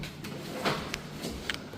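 A door being opened on the fifth floor of a Brussels Airbnb building, heard as a few light latch clicks and a soft thud over a low room hum, close by.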